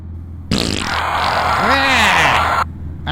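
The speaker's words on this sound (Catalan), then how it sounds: "tu t'has fotut un pet" A long, loud, close fart blasts out abruptly, rumbling and wavering in pitch for about two seconds before cutting off.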